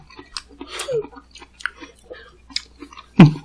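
Seedless watermelon being chewed up close, with wet, crunchy bites and soft squishy mouth sounds spread across the moment, ending in a sharper crisp bite.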